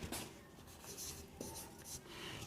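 Pen scratching across paper in a steady run of short writing strokes, close and fairly soft, with no talk over it.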